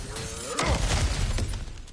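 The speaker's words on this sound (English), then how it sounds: "back to smashing through things for fun and profit" Objects shatter and break apart in God of War Ragnarok, a loud crash at about half a second followed by scattered debris and clattering thuds, with no talking.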